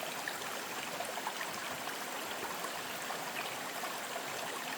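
A creek flows steadily and fairly close by, producing a dense, even wash of rushing water with no breaks, along a rough forest road.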